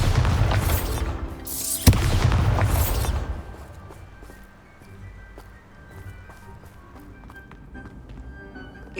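A Bombarda spell in Hogwarts Legacy goes off with a loud booming blast, followed by a sharp crack and a second rumbling burst, then the noise fades to quiet ambience with faint taps.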